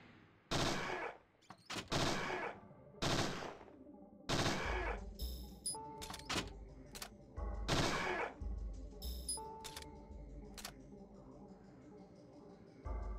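Gunfire in Parasite Eve II comes as loud, sharp bursts of shots at irregular intervals, some in quick clusters, with quieter game sounds and a speaking voice between them.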